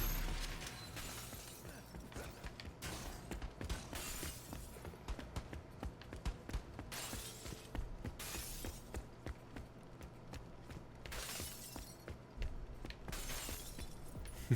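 Glass shattering during a Crackdown 3 Wrecking Zone match, repeated sharp crashes and tinkling debris bursts scattered across the stretch over a low steady game rumble, moderately quiet, no voices.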